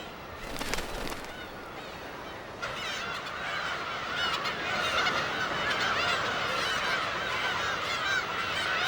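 A colony of black-tailed gulls on Dokdo calls continuously, a dense overlapping chorus of harsh cries and squawks with several loud nearby calls over a steady background of distant birds.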